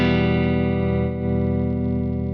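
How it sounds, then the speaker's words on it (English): An electric guitar on its neck pickup rings out through an Electro-Harmonix MIG-50 amp on a clean setting, a sustained chord that is struck again midway and rings on steadily with no talk. "let's check out then the clean sound, neck pickup."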